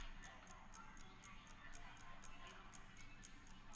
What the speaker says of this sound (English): I can hear a clock on my wall.